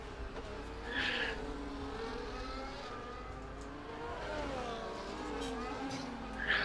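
A race car engine runs on track in a racing video game at the Qatar circuit, a near, continuous whine whose pitch rises and falls through the gears, with short bursts of tyre noise early on and again at the end.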